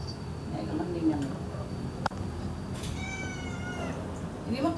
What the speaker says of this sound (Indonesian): Ini mah kucing ras ya dia.